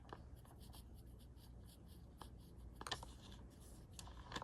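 A Faber-Castell Col-Erase terracotta colored pencil drawing Zentangle patterns on paper, with quiet, close scratchy strokes in short repeated bursts and brief pauses between them.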